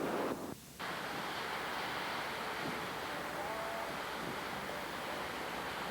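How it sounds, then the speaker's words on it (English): Water rushing across a road where the roadside has been washed out, a steady, loud broadband roar of flowing water heard alone, with a brief dip near the start. "As you can see, the water was running across the road, and the side of the road has been washed out."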